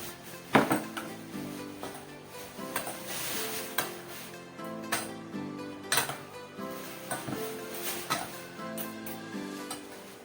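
Grilled chicken kinilaw salad ingredients tossed in a bowl, with a run of clinking and scraping strokes of a utensil against the dish at an uneven rhythm, close and fairly loud, no voices.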